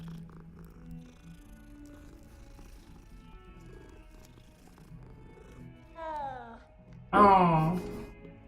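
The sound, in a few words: cat purring when petted in video game Hogwarts Legacy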